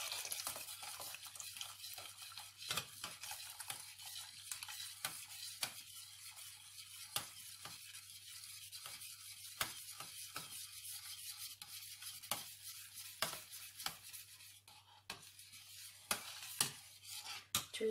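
A spoon stirs boiled milk in a pot in faint, repeated scrapes and soft swishes, spaced irregularly against a quiet steady background hum, with no talk.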